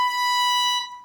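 A single sustained violin note, B natural played on the E string, rings clear and steady for about a second before fading, with no voices over it.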